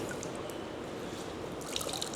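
Water trickles and drips from a wet cloth bandage as it is wrung out, a soft, steady patter with a few brighter drops near the end.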